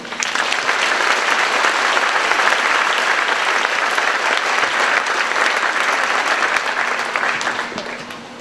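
An audience at the 2017 Dike-New Hartford high school commencement applauds with loud, steady clapping that holds for about eight seconds and then begins to fade.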